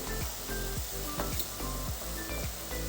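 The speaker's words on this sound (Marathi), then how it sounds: "हे भिजवलेली मुगाची डाळ टाकून घेते आणि परतून घेते" Soaked moong dal sizzles as it is sautéed with spinach in a pan, giving a loud, continuous frying hiss broken by repeated scrapes and stirs, with no voices.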